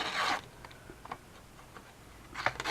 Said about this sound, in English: First of all, I need to rip this.